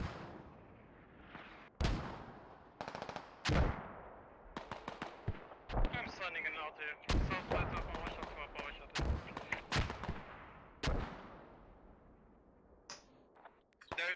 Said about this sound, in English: using a long creeping barrage from the central point